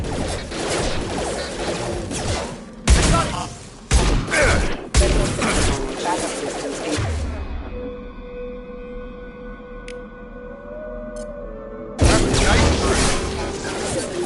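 Gunfire from the Mass Effect video game: a burst of loud, sharp shots and smashing impacts in the opening seconds, then a quieter droning stretch before more heavy firing returns at the end.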